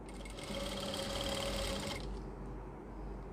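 A sewing machine stitches lace onto a kameez in a fast, steady mechanical whir that runs for about two seconds and then stops, leaving a faint background hum.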